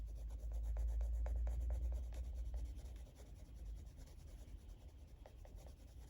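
Colored pencil rubbing and blending across paper: faint, soft repeated scratchy strokes in short rhythmic passes over a low background hum, with no voices.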